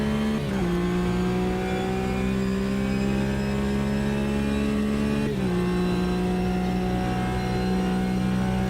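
A Porsche flat-six engine in the racing game Automobilista 2, droning loudly and steadily at high revs with two quick upshifts that drop the pitch, no talking.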